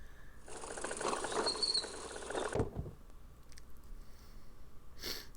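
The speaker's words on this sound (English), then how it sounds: "Screaming females, they sound like their name." Screaming females in the Gabriel Knight game, a shrill, high-pitched wailing burst lasting about two seconds before cutting off, followed by a few quieter scattered noises.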